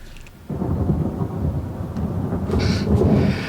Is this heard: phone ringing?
no